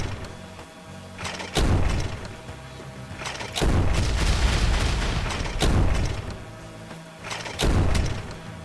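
Bombs blowing up in a tower-defense style video game, heard as several loud booming blasts spaced a second or two apart, each a broad burst with a rumbling tail, with no talk over them.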